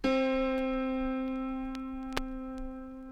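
A single autoharp string, the lower-octave A sharp, is plucked once and rings on as a steady, sustained tone with rich overtones, slowly fading, with a few faint clicks behind it.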